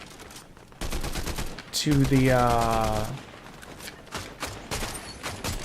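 Rifle gunfire in a video game rattles in rapid bursts of sharp cracks, with a tonal whine in the middle stretch, and a voice speaks briefly over the shooting.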